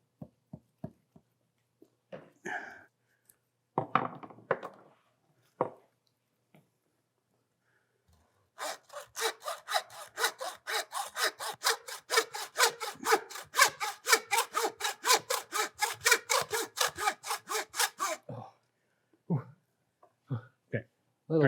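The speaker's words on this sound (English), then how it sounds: "I'd like to saw it through here, and we'll use it as a roast." A hand saw cuts through muskox bone during butchering. Rapid, steady back-and-forth rasping strokes run for about ten seconds, close and loud, with brief talk and knocks before and after.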